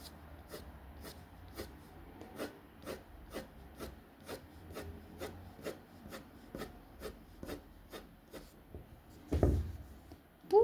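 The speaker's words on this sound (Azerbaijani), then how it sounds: "Mən bu ştrixləri özüm aralı vururam ki, siz onu rahat görə biləsiniz deyə." Pencil hatching strokes rasp across drawing paper while shading a circle: a steady, close run of short scratchy strokes at an even rhythm, about two per second, with no talking.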